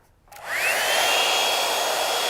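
A hair blow dryer switches on with a click and a rising whine, then settles into a loud, steady whoosh of blowing air, close by and running alone without talk.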